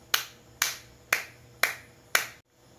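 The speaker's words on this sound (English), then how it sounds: "Let us give Pedro 5 claps" A class of students claps together in five sharp, evenly spaced claps to reward a classmate, each burst loud and crisp in a room, followed by quiet.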